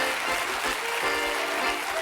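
A studio audience on a French TV game show gives steady, dense applause that fills the whole stretch at an even, loud level, with no voices breaking through.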